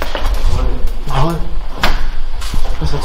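A heavy old door in an abandoned sanatorium creaks and shifts, then bangs shut with sharp knocks, under close, excited talking.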